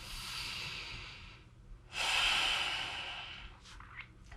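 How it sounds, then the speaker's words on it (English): A full, slow breath drawn in and let out during a gentle seated exercise, the inhale hissing for about a second and a half and the exhale rushing out louder and longer, close and alone. "full breath in and out"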